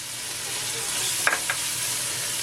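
Vegetables sautéing in a pot with smoked paprika, parsley, tomato paste and a little sugar give a steady, even sizzle, broken near the middle by two brief scraping stirs.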